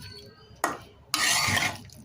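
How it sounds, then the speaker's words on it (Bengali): Chicken with spices stirred in a pot with a metal ladle: two scraping, clattering strokes, a short one then a longer rasping one, close and fairly loud against quiet kitchen background. "আমি এই যে হাতা দিয়ে মিশিয়ে দিচ্ছি।"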